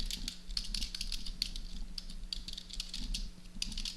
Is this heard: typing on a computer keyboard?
yes